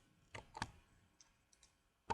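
Computer mouse clicks while modelling traffic lights in Maya: several sharp, faint, close clicks scattered irregularly, some in quick pairs, with no talk.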